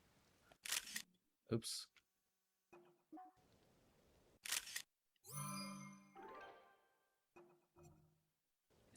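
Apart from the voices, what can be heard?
camera shutter from a video game (Zelda: Tears of the Kingdom)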